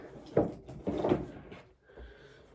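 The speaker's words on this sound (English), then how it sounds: "Let me pull it out of my drawer here real quick" A drawer being pulled open by hand at home, a couple of close wooden scraping and rumbling bursts with a soft knock, then a brief quiet.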